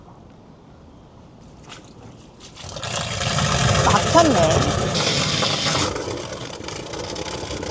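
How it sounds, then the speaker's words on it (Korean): Rainwater on a villa rooftop rushes into a drain that a moving box had blocked. After a quiet start, a loud, steady gushing surge begins and keeps going, with someone talking over it. "지금 물 내려가는 소리 들리시죠?"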